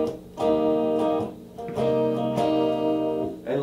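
Guitar strums a movable major seventh bar chord a few times, ringing clearly and close, with short pauses between strums and no talk.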